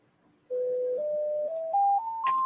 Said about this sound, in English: Not your phone again, Ola Joe.